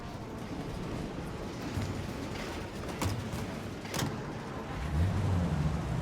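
Car engine running steadily in the Mafia Definitive Edition game while driving through the city, a low continuous rumble with a soft rise near the end.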